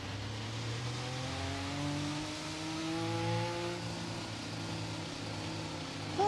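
Race car engine in an F1 video game on the Baku street circuit, a steady high whine with rising and shifting harmonics through upshifts, loud and continuous for the whole stretch with no talk over it.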